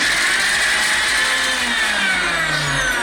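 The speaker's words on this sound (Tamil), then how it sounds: "இப்போ அடுத்தது வந்து அதே கப்புக்குள்ளேயே பச்சை மிளகாயம் அரைக்க போகிறோம்" A blender grinds green chillies in the same cup just used for garlic, a loud steady whirring motor drone that runs continuously and alone, its pitch sliding slightly as the blades spin.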